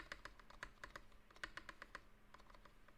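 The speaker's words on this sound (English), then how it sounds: "When you're tapping on a spacebar, you have to go like this." A computer keyboard spacebar and keys tapped in a steady, evenly spaced run of crisp clicks, close up, then a softer, sparser patter toward the end, with no voices.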